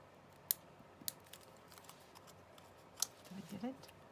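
Scissors snip a paper image in a few sharp, sparse cuts, faint and close in a quiet room, followed by light paper rustling.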